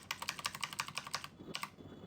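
A computer keyboard rattles with a quick run of key presses, followed by a short pause and then two final taps, one of them the Enter key. The keys sound close and crisp, with no voice.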